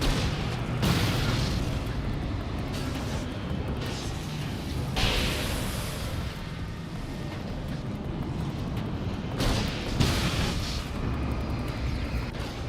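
Flashbang blasts in Alan Wake: American Nightmare, several heavy booming bursts spaced a few seconds apart over a constant loud rumbling game backdrop, with no talking.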